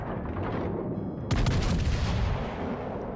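Naval gunfire from the cruiser Belfast in World of Warships: Legends, a loud booming salvo erupting suddenly over steady background rumble and decaying slowly.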